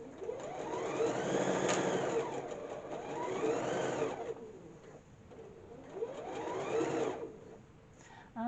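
A sewing machine stitches quilt sashing in close, loud runs that rise and fall in speed, with brief pauses between bursts of stitching.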